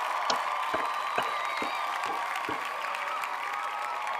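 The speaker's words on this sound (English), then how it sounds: "let's give ourselves a round of applause." Alabama Crimson Tide football players clap for themselves at a team gathering the morning after a win over Western Kentucky, a faint, loose patter of applause with a few sharper claps, heard at a distance.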